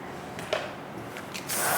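Hair shine spray misted onto backcombed hair during styling, a few short soft hissing bursts followed by a longer, louder spray at the end, close and quiet with no talking.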